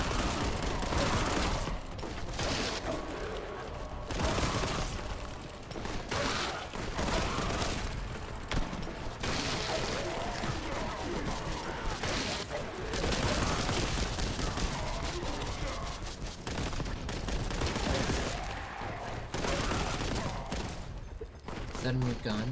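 Video game gunfire keeps up dense rapid bursts and repeated shots through the whole stretch, loud and close, broken by short gaps, with a voice talking now and then.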